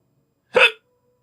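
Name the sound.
hiccup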